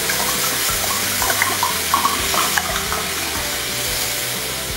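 Wine from a bottle pours into a pot of floured beef bourguignon base, a continuous splashing liquid stream with small gurgles and clinks, close and steady for several seconds, no talking.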